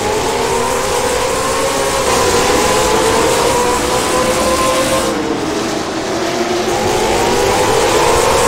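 Late model stock cars racing at Jefferson Speedway, including a Toyota Camry, with loud sustained engine roar whose pitch rises and falls as cars pass close by, continuous and dense throughout.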